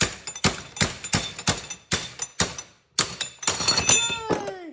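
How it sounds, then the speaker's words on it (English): Hammer taps work a 307 rear bearing off a Mopar four-speed transmission shaft: a close, steady series of sharp metallic strikes with a few brief pauses, the last blows ringing out with a clear tone. "Now I'm just tapping it with a hammer and slowly working the bearing off that way"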